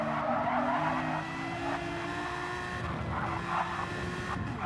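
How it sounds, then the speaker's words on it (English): Race car in a racing video game losing grip and skidding into a barrier at the Spa-Francorchamps exit of La Source, with a sustained tire squeal over a steady, loud engine drone lasting the whole moment. "Rick James loses the car and hits the barrier on the exit of Lacombe"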